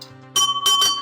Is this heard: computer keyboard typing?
no